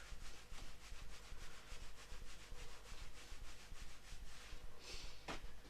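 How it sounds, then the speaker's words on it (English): Hands rubbing against the lower back, a continuous brisk scratchy friction with rapid back-and-forth strokes, close and steady, no talking. "rub the hands together again and give your lower back a"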